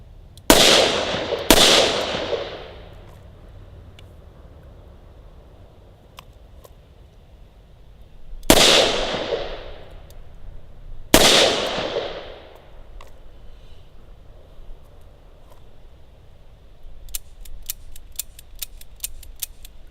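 A Smith & Wesson Model 66 Combat Magnum revolver fires four sharp, loud shots, fired left-handed: two in quick succession, a pause, then two more with ringing decay, followed by faint metallic clicks.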